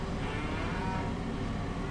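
Young calves in the farming video game Farming Simulator 25 low continuously against a dense, steady wash of farm ambience, the mooing blended in at moderate, even loudness.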